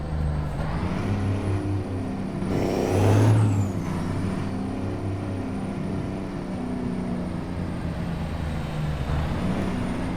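A truck in a video game rumbles with a steady engine drone, and a loud hiss of air brakes swells and fades early on before the engine settles back to a constant hum.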